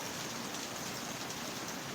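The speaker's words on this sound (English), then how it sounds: "it is raining" Rain falls in a continuous, even hiss with no distinct drops standing out, heard faintly from a distance.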